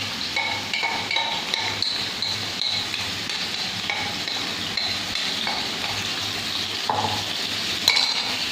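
Chicken frying in a pan on a stove over a normal flame for chicken rolls, a steady close sizzle with repeated scraping stirs and occasional light clinks of a utensil against the pan, no voices.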